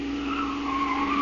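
A car's tires squeal and skid steadily as it whips around a corner on two wheels in an old-time radio drama, a sustained whining screech with engine hum beneath, loud and close throughout.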